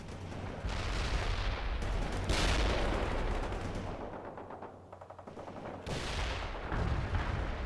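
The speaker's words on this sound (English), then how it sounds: "Malyshenko's napalm strike" Napalm strike explosions in the World in Conflict strategy game, a loud, sustained roar of bursting fire and blasts rolling over a forest, mixed with rapid gunfire crackle, swelling in waves with no talking.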